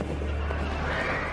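A horse whinnies in a short, moderately loud call over a steady low background rumble.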